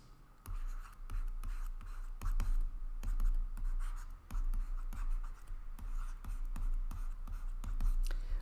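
Pen or marker writing steadily on a board or paper during a lecture: continuous close scratching strokes broken by short lifts and pauses, fairly loud and dry, no voice over it.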